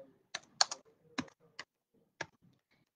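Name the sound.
typing on a computer keyboard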